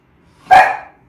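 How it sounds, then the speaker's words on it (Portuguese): A single sharp, loud dog bark close by, one short burst that fades quickly into quiet. "Ó, meu cachorro."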